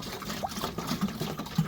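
Water and a scoop of fertilizer slosh around inside a watering can, giving soft, irregular liquid swishes and gurgles at low volume.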